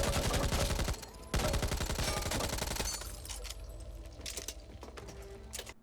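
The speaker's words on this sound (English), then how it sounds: "after you've laid down 80 rounds from this LMG" An LMG in the Back 4 Blood video game fires a long, loud, rapid stream of rounds that rattles continuously for about three seconds, then tapers into scattered, quieter shots and mechanical clicks.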